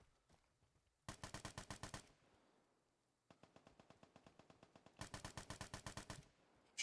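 Automatic gunfire from a video game gun, two long rapid bursts of evenly spaced shots with a quieter stretch of fainter firing between them, loud and close.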